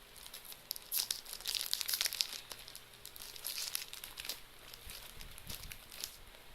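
A crinkly plastic chocolate snack wrapper is torn open and handled, giving bursts of close, bright crackling and rustling that come and go with small pauses, with no talking.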